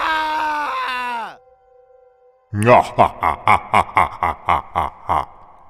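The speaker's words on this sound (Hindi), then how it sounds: "रामू की चीखें गूंजी।" A man lets out a drawn-out, wavering scream, then after a short pause comes a quick run of rhythmic, pulsing bursts.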